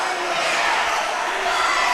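A packed high school gym crowd during a boys' basketball game, Valley against Adena, makes a steady, dense roar of cheering and shouting that holds at an even loudness throughout.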